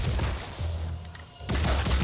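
Gunfire in the video game Phoenix Point: a dense burst of rapid shots starts loud, eases for a moment, then comes back strong, with no talking over it.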